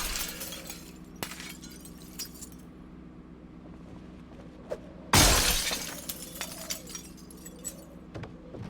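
Glass shattering in the zombie survival game Project Zomboid, one sudden loud crash that rings and fades over a low steady hum, with scattered small clicks before and after.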